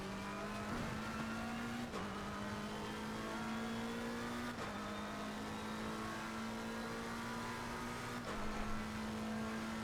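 A race car's engine drones steadily through a lap at Brands Hatch in a racing video game, with a few sharp gear-change dips and brief tire squeal, loud and continuous with no talking.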